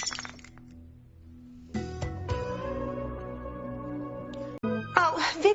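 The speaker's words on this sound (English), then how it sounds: "Oh, Vicki, you dropped that expensive crystal glass." An expensive crystal glass is dropped and breaks: a sharp clink and crack around the second mark, followed by sustained ringing tones and a scattered clatter near the end.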